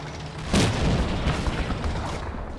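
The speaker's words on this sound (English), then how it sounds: "Our favourite half track takes a tank shot and immediately gets wiped out." A tank shot destroying a half-track in the WWII strategy game Combat Mission: Battle for Normandy, heard as a single loud, close boom that tails off into rumbling debris and ambient battle noise.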